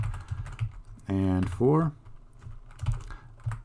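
Brisk clicking on a computer keyboard while C++ code is typed: scattered close keystrokes throughout, with someone briefly speaking over them in the middle.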